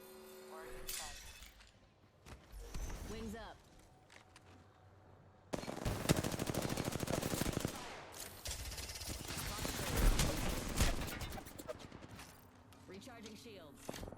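Rapid automatic gunfire bursts out in a shooter video game, loud dense volleys with crashing impacts over several seconds, amid other game effects and sounds.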